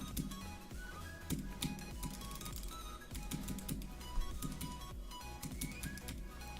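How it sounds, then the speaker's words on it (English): Keys clatter on a wireless gaming keyboard, a quick and busy run of sharp clicks and taps. The typing is fairly faint, with uneven bursts and short pauses. "This is a wireless gaming keyboard."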